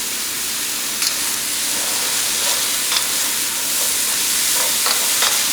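Steak, garlic and rice frying in a pan over medium heat for surf and turf fried rice, giving a steady, even sizzle with faint stirring scrapes now and then and no talking.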